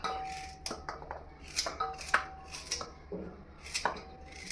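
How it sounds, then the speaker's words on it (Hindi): A knife chops carrots into big pieces on a board, with irregular sharp cuts spaced unevenly, close and clear, no voices. "इस तरह से सारी गाजर को हम काट लेंगे"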